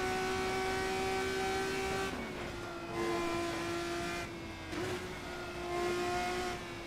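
RSS F3 open-wheel race car engine in Assetto Corsa, a high, steady whine held at speed with gear-change dips and revs rising again, loud and continuous throughout.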